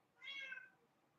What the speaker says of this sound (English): That's one of my kitties crying.